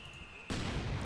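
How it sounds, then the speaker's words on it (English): An anti-tank gun firing at a half-track in the Company of Heroes 2 strategy game, a single sharp, loud shot bursting in about halfway through after a quieter stretch of battlefield ambience. "AT gun opens fire on the half-track"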